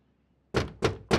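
Three firm knocks on a locked door, evenly spaced and close, ringing out alone after a moment of near silence.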